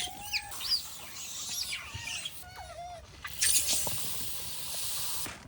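Chickens and other birds cluck and chirp at a feeding spot scattered with rice, millet and maize in Barsana, close fowl calls with a hiss of noise toward the end.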